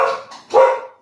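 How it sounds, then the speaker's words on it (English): Two quick, close barks from a dog, the second louder and sharper, with nothing else around them. "It appears I have to let these dogs out so they can chase the squirrels"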